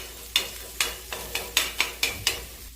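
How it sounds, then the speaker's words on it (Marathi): Egg bhurji fries in a pan, stirred in quick rhythmic scrapes, about eight close, evenly spaced strokes over a low sizzle. "छान अशी भुर्जी बारीक करून घ्यायची."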